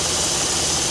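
A tractor engine runs during corn combining, a loud, steady, rough mechanical roar with constant vibration and no voices.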